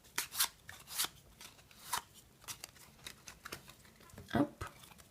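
A deck of playing cards is handled during a magic trick, giving soft, close riffles, flicks and taps in an irregular patter, with one louder snap near the end.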